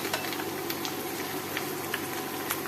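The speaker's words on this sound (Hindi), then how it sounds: "तो तकरीबन हम 2 मिनट के लिए फ्राई करेंगे।" Green chili frying in a pan of oil while cooking whole masoor daal, a steady close sizzle with scattered crackles and pops, no talking.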